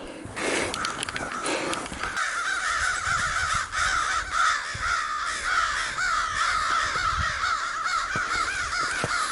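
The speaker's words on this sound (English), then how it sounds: "There are some crows over there going absolutely berserk" Several crows caw harshly and repeatedly in an agitated chorus from nearby trees outdoors, loud and continuous with overlapping calls and no talk.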